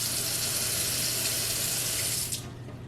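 Tap water gushing steadily into a plugged kitchen sink, a loud, even hissing rush that carries on alone and drops off abruptly near the end.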